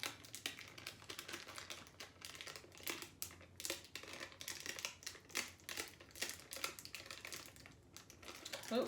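Hot fix rhinestone transfer tape being peeled off a decal, close and quiet, with a long run of rapid crackly ticks and crinkles.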